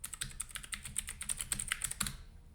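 Fast, irregular clatter of keys being typed on a computer keyboard, close and fairly quiet, continuing steadily for a couple of seconds before stopping.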